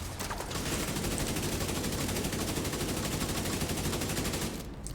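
Sustained rapid automatic gunfire in The Division 2, a dense, loud unbroken burst of shots pounding for several seconds before cutting off abruptly.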